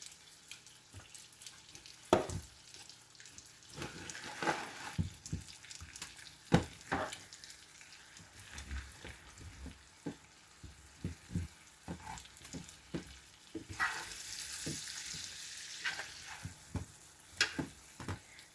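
Food with heavy cream, paprika and pepper browning in a frying pan, a faint ongoing sizzle broken by clinks and scrapes of stirring, with a brief louder hissing burst near the end.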